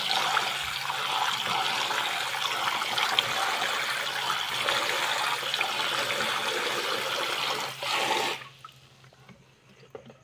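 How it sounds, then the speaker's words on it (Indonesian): Black beans being rinsed in water for a black sticky rice porridge, with a steady, fairly loud rush and splash of running water that continues for about eight seconds before cutting off to near silence. "Kacang hitamnya kita cuci secara terpisah ya."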